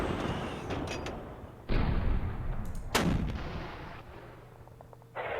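Heavy artillery firing in the WWII wargame Panzer Campaigns Bulge 44: a few loud booming blasts with long rumbling tails, close and punchy, one after another with no talk.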